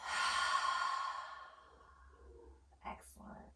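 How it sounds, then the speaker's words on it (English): A deep, audible exhale through the mouth during a yoga breathing exercise, a long breathy rush that fades out, followed by a couple of soft breathy sounds, close and fairly quiet. "take one more deep inhale through your nose. Big exhale from your mouth"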